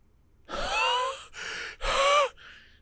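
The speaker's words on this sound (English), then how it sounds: "He's breathing deeply." A person breathing deeply in three distinct, loud, close breaths with a rasping, gasp-like quality, followed by a fainter fourth exhale, with no talking.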